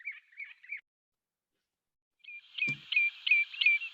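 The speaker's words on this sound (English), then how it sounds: "the Redshank with the oyster catcher. They are well known because they are making this constant noise, this pee pee pee" Redshanks and oystercatchers call in Iceland, giving repeated short piping notes in quick bursts, first a brief trio and then a longer run of sharp whistles after a pause, fairly close in quiet surroundings.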